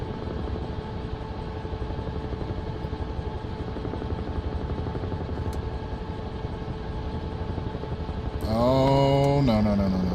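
A helicopter in the Microsoft Flight Simulator 2024 game keeps up a steady engine drone and rotor hum, then a louder tonal whine comes in near the end.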